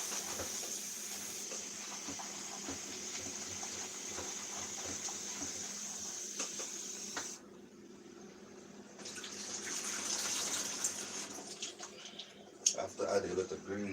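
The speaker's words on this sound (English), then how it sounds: "I'm just gonna wash my spinach before I use it." Tap water runs steadily while fresh spinach is rinsed in a kitchen sink, a continuous hissing stream with brief changes in flow and a few clatters near the end.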